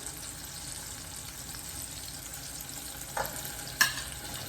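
Onion goes into tomatoes frying in oil and keeps up a steady, close sizzle, with a couple of sharp stirring clinks near the end.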